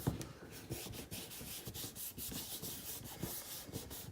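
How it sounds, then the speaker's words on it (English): A craft stamp has ink rubbed onto it by hand, giving soft, quiet, rhythmic scrubbing strokes repeated steadily back and forth, with no talk. "I'm going to rub that onto our stamp. Give it a good rub, make sure you get full coverage."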